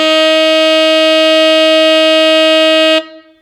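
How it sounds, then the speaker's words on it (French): A saxophone holds one steady, loud F for about three seconds, played with the low B-flat fingering, then stops cleanly and leaves a short fading tail. The tone is bright and rich in overtones, with no talking. "le doigté du si bémol grave, mais en conservant en tête la note Fa."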